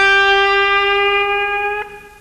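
A single sustained electric blues guitar note, bent slightly sharp from the minor third toward the major third, rings clearly on its own and slowly fades, with a small pick or fret noise near the end.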